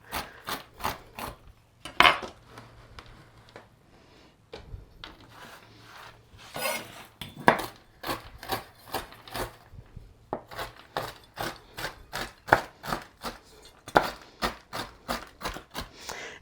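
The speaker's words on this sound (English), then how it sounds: "I'm just going to run my knife through them and just get them all chopped up" A knife chops food by hand on a cutting board for homemade breakfast cereal, giving a long run of sharp, close, rhythmic taps with a few brief pauses and no talking.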